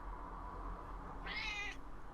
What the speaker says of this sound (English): It wasn't my cat.